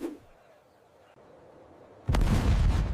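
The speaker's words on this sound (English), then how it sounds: "He heavily concentrated his artillery on the fragile north wall." Artillery bombarding the adobe walls of the Alamo: after a quiet low rumble, a sudden heavy cannon blast erupts and rolls on loudly, close and booming.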